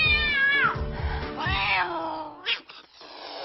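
Jinxer, the cat in the 2006 comedy Date Movie, lets out two drawn-out, wavering meows in close succession, the second rising and falling, followed by a short sharp squeak, with background noise underneath.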